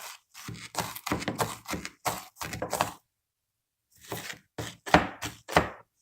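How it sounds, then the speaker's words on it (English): A knife chops an onion on a board in quick crisp strikes, a dense run of cuts, a pause, then another burst of close, fairly loud chops. "this is the first onion that I've chopped officially"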